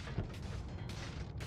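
An explosion goes off in the video game Noita, a faint, dull boom that spreads into a steady rumble with several softer bursts following over about a second and a half.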